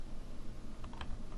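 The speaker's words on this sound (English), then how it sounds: "That's why I'm typing all of this." Fingers type on a computer keyboard, a quiet cluster of light keystroke clicks over a low steady room hum.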